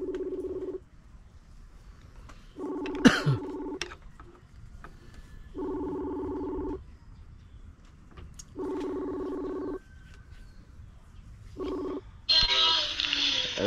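An outgoing phone call rings out: evenly spaced ringback tones repeat about five times over steady low background hiss, ending in a burst of brighter noise.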